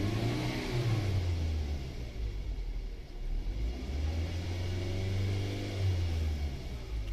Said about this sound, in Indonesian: Lalu kita tekan gas lagi. Kita tekan gas.